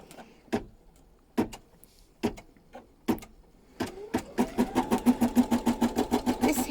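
A home embroidery machine starts stitching a gnome hat: several separate mechanical clunks, then a fast, regular rhythmic chatter of needle strokes, close and clear with no talking.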